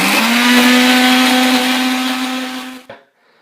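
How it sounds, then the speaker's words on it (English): A blender whirs loudly with a steady high motor drone, mixing porridge, egg whites and sweetener for protein pancakes, then winds down abruptly and stops. "And now we're simply just going to blend for about 30 seconds."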